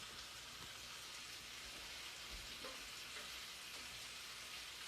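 Chicken frying in an uncovered pan, a steady, even hiss and sizzle of hot oil throughout with occasional faint pops.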